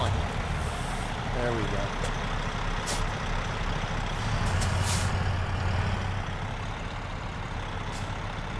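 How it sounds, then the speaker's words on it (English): A truck engine starts up in American Truck Simulator, a steady low rumble with an air-brake hiss running under someone talking throughout. "Let's turn the truck on."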